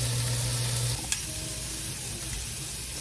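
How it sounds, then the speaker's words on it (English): Shrimp sizzle on a grill, a steady, close hiss that runs the whole time under a brief low hum that stops partway, with one sharp tap in the middle. "I'm going to grill the shrimp here"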